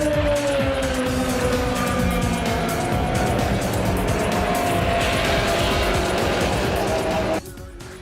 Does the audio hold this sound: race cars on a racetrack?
yes